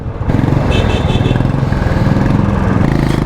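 A motorcycle engine revs loudly and close-up, a rough pulsing drone that steadies after a brief pause as the bike shifts into second gear.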